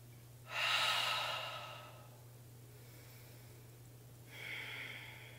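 A slow audible inhale through the nose during a seated chair yoga flow, followed after a pause by a shorter, softer second breath, close and quiet over a faint steady hum.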